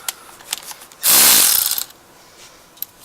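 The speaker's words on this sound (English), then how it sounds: "you can use, you know, the small 1/4 inch ratchet with the 13" A small 1/4 inch ratchet fitted with a 13 socket turns exhaust manifold bolts on a 2005 Chevrolet Trailblazer, giving one loud, close burst of rapid clicking that lasts just under a second against quiet surroundings.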